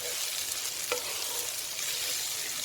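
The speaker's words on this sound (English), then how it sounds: "So the idea then is just to caramelise the onion and the garlic and the beans a little bit." Butter beans, onion and garlic fry in a pan with a steady, close hiss and sizzle, broken by a few faint spoon scrapes and crackles, with no talk.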